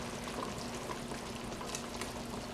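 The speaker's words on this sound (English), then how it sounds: "So we are just going to drop these straight into the hot broth." Dumplings drop into hot chicken broth on the stove, and a steady close bubbling and sizzling simmer runs throughout with no talking.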